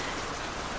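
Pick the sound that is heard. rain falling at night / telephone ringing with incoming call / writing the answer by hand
rain falling at night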